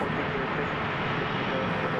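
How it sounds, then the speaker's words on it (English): A Cessna 208B Super Cargomaster, a 1988 single-engine turboprop cargo plane, coming in to land at DFW at night, with a steady, loud engine roar that holds even throughout, no voices present. "Got another little plane coming in. A Cessna 208B Supercargo Master, a Martin Air."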